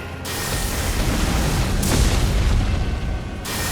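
Borealis, a frost dragon boss in Elden Ring, unleashes a breath attack that roars as one loud, sustained blast of broadband rushing noise lasting a few seconds with no voices over it.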